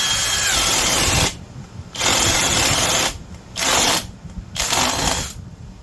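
A Vevor 2-speed brushless 3/8-inch right angle drill runs in four bursts of high, buzzing drilling, each a second or so long, with quieter gaps between them.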